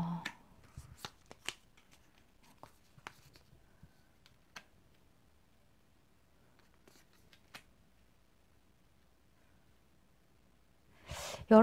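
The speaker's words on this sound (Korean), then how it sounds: "추가 카드를 한번 뽑아보겠습니다" Tarot cards shuffled by hand, crisp riffling flicks clustered at the start, then sparse soft taps and a louder riffle at the very end, close and otherwise quiet.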